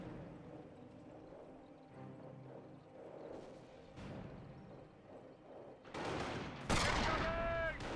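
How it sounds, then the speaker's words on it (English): Shots from a US sniper in Company of Heroes, heard amid battlefield rumble and scattered gunfire, with louder bursts of fire and an explosion-like crack near the end. "US sniper fired away."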